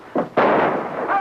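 A sharp gunshot in a western movie, two quick loud bangs with a rolling echo that decays over about a second, heard close and alone.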